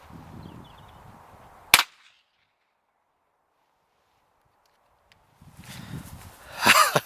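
A single sharp, loud gunshot from a Federal Game Shok .22 LR shotgun round cracks outdoors, followed by a few seconds of near silence before rustling and handling sounds return.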